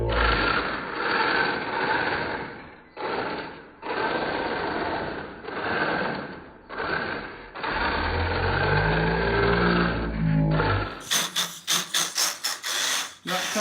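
Atomic AMZ Mini-Z RC car drifting on a small table-top track, a high, whining electric motor buzz with revving surges and short gaps, close by, ending in rapid clicking bursts.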